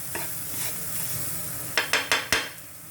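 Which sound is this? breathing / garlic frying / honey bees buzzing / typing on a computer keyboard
garlic frying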